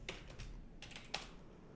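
Keys on a computer keyboard clatter in a few quick bursts while someone types a Git command, close and fairly soft, with faint room noise between the strokes.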